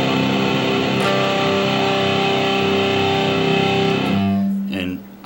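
Electric guitar played with distortion, a sustained ringing chord holding steady before a bright harmonic on the A string at the seventh fret rings out near the end, close and loud.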